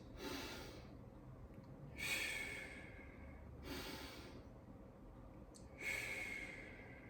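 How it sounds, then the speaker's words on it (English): Deep, audible breaths after a weight training set, several loud exhalations at roughly two-second intervals, close and steady, with no talking. "Deep breaths."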